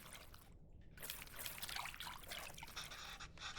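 Tamarind is stirred and squeezed into water in the cooking game Venba, giving a quiet, continuous trickling and sloshing of liquid for several seconds, with a brief pause near the start.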